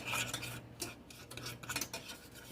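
Utensil scraping and rubbing through thick cookie dough as brown sugar is worked in, a close, quiet series of rasping strokes in an uneven rhythm, no speech.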